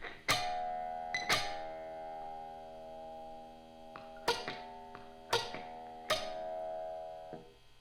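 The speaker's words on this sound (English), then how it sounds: "So you can hear the low E" Plucked low E string on an electric guitar rings out through a resonant effect, with several separate picked notes that bloom and sustain in a shimmering, bell-like decay, played fairly quietly with nothing else over them.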